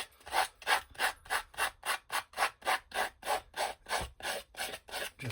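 Rapid back-and-forth hand sanding along the edges of paper on a mixed-media art tag, a steady rhythmic rasp of about three strokes per second, close and alone.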